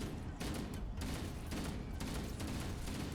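Rapid shotgun blasts against the Flood in the video game Halo: Combat Evolved, a dense barrage of loud booming shots in quick succession with rumbling battle noise between them.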